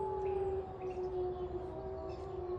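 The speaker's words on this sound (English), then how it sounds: "If you listen close behind me, you can hear one way that these wolves communicate with each other." Gray wolf howling, a long sustained tonal howl held steady with a higher harmonic, fairly close and alone against a soft low background rumble.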